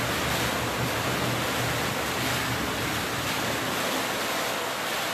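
Hot tub waterfall and jets bubbling, a dense continuous rushing and churning of water, steady and close with no voices.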